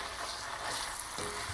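Tomatoes sizzle and fry in a hot pan during osso buco preparation, giving a soft, continuous crackling hiss at close range with no voices.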